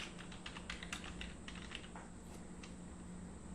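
Fingers tap quickly on a computer keyboard while a layer is renamed in drawing software, a rapid burst of light key clicks that thins out toward the end, faint and close over a low steady hum.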